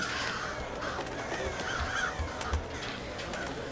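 A crow cawing repeatedly in the stealth game Thief, several harsh calls spaced over a steady ambient game background, moderately near, no speech.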